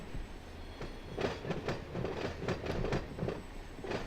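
Multi-level freight train rolling in during a Run8 railroad simulation, a steady rumble with rhythmic clickety-clack of wheels over rail joints, fairly faint and constant, no voices.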